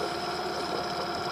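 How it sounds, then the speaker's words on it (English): A new Honda 10HP outboard motor runs steadily just after starting, a close, even engine drone with a buzzing hum and no voices. "First start up with a new engine, and it started on the first pull."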